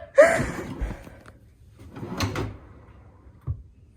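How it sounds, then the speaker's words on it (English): A drawer fitted with newly installed soft-close runners slides shut in a kitchen cabinet, giving a soft thud and bump at the start, a quieter sliding rustle midway, and a faint final tap near the end. "I just swapped out the click to open runners for the soft close on this drawer, and it's way better"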